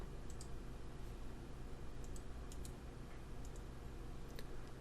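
Faint computer mouse clicks while copying text, a few sparse light ticks scattered over a steady low background hiss, no voices.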